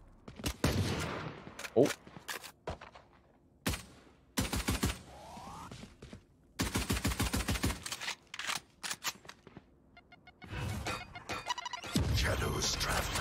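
Repeated bursts of rapid gunfire and single shots in an esports shooter match, sharp and close, spread across the stretch with brief gaps, with a short exclamation and commentary talk around them.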